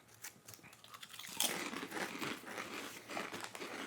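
Crunchy Asian snack chewed close to the mic, quiet crinkling at first, then a burst of loud, brittle crunches giving way to steady crunchy chewing.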